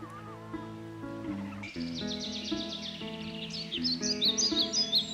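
Birds singing at Lake Gwihinda, the bird lake in Burundi: several clear, bright chirps and warbling phrases over a soft musical background, growing busier and louder toward the end.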